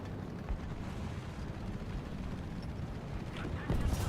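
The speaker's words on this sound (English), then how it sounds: "Who the heck is shooting at me?" Gunfire in the War Thunder tank game, a dense rumbling barrage of distant shots and impacts running continuously, growing heavier near the end.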